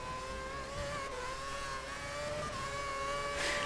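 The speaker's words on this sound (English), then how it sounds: "Hitting that rev limiter." F1 car engine in the F1 2011 racing game, a steady high-pitched whine held near the rev limiter with sustained tonal harmonics, loud and continuous throughout without talk.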